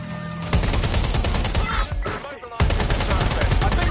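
Rapid automatic gunfire in the game Watch Dogs Legion, loud and dense, pausing briefly before the sustained bursts resume, with a voice partly heard.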